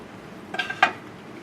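Peanut butter spread on a cracker with a plastic spork from an MRE: two short, close clicking scrapes about a quarter second apart against a quiet background.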